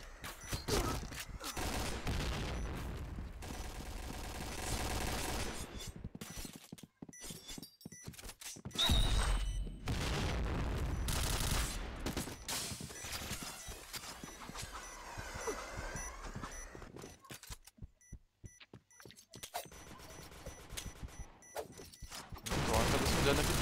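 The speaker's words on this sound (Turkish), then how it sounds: "Bomba patladı." Game gunfire and heavy blasts crack repeatedly through a busy, loud mix, with a big explosive bomb boom among bursts of shooting and occasional talk.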